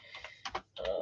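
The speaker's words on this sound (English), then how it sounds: "I don't know what's going on with my typing here" Several quick clicks from a computer keyboard come in small clusters with short gaps, close to the microphone and fairly soft, with no voices.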